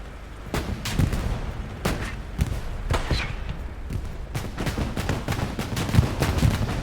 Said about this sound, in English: AT rocket from Redacted.